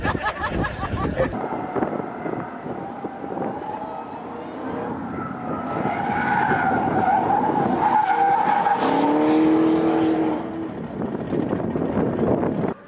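Tyres on custom Dodge cars screech in a long skid at a drag strip, the squeal swelling and wavering over roaring engines and wind buffeting the microphone, loud and sustained throughout.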